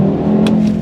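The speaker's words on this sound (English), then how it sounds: "5-cylinder engine" An Audi TT RS five-cylinder engine hums steadily from inside the car, a low sustained drone with a faint lift partway through, heard alone.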